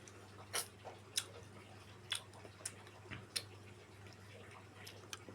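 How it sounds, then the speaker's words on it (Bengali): Someone eats a fruit, heard as soft crunchy chewing and biting clicks close to the microphone. The bites recur at irregular intervals over a steady low background hum. "আমি খাচ্ছি দেখেন।"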